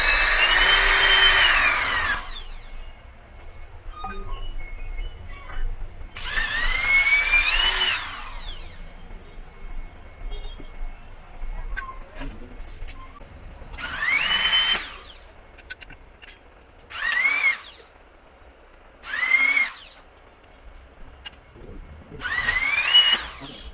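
A power drill drives screws into the corners of an aluminium frame for an LED pixel round board, running in six separate loud whining bursts of a second or two each, with quiet pauses between them.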